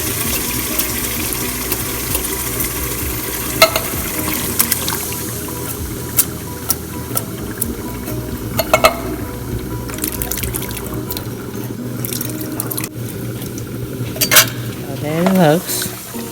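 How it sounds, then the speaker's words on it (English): Four cans of Italian stewed tomatoes slop and splash into a big pot of vegetable stew with beef and chicken, wet plops and scraping over a steady sizzling, bubbling background. "I'm going to add 4 cans of the Italian stewed tomatoes."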